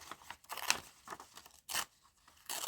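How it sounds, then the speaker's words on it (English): Paper scrap torn by hand in a few quick rips, close and crisp, with short rustling bursts between tears. "just going to tear it"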